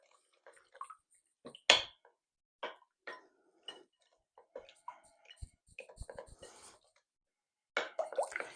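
Butter being stirred into cinnamon roll filling in a cooling pan: scattered light clicks and scrapes of a utensil against the pan, spaced irregularly with quiet gaps, fairly close and soft, with a brief bright clatter early on.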